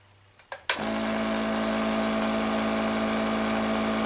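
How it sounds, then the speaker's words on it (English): An EPAP airflow generator, delivering a fixed flow of 15 liters per minute through a tube and gauge, switches on after a couple of clicks and settles into a steady, even whirring hum that continues unbroken. "We have an airflow generator here that blows air through this tube, through this gauge, and comes out through this large tube"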